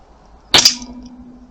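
A single sharp crack from an AP900 air gun firing a 3mm bead, close and fairly loud, followed by a brief ringing tail and a faint steady hum.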